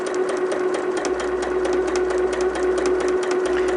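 Sewing machine stitching down Dresden plate quilt blades, a continuous rapid needle chatter with a steady motor whine, running close and unbroken throughout.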